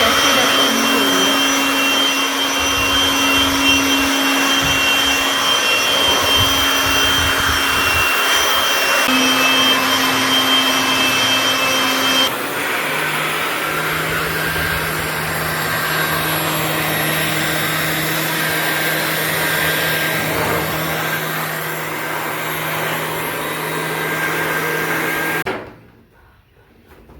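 An electric blower clearing dust and cobwebs near a staircase, with a ceiling fan spinning in the air stream, roars loud and steady for about 25 seconds, its whine shifting pitch once partway, before it cuts off abruptly.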